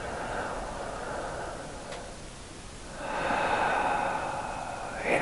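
Breathing exercise in the Wim Hof method: a slow, audible exhale through an open mouth shaped like an 'ah', soft and close, preceded by quieter breath noise.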